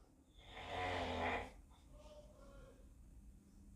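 A nephew's snoring: one long, rasping snore swells and fades over about a second, faint and distant, followed by quiet room noise.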